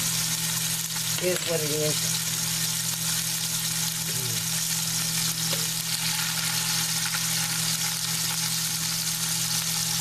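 Liver frying in avocado oil in a pan, a steady hiss and sizzle running throughout, with someone speaking briefly over it.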